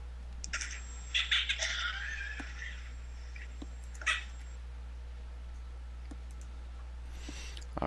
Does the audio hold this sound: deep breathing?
no